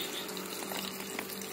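Mustard greens seedlings being watered before transplanting: a steady, continuous pour of water, close and unbroken for the whole stretch.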